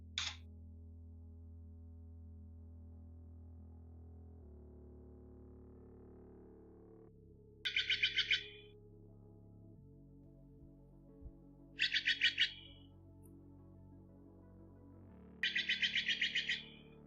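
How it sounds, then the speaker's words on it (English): Steller's jays give loud, harsh calls, each a rapid burst of raspy notes, three bursts spaced a few seconds apart over faint low background noise, with a short call at the start. "So these are Stellar Jays."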